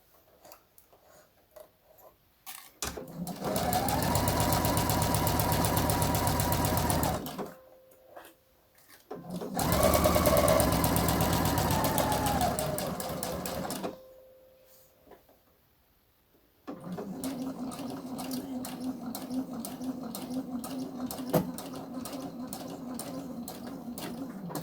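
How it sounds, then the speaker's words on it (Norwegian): A sewing machine stitching a blouse seam, running in bursts of steady whirring and rapid ticking, pausing, then starting again near and loud. "Og så skal jeg sy meg tilbake igjen"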